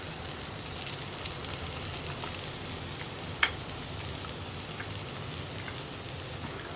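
Ground coconut paste goes into a pan of snake gourd and dried shrimp, setting off a steady, close sizzle and crackle of frying that runs unbroken, with one sharp click partway through.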